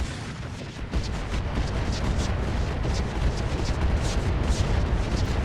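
Dense, sustained barrage of Inferno missile impacts in the Roguetech BattleTech mod, a continuous rumbling roar of overlapping booms and crackling bursts that holds steady and loud for several seconds, with no talk.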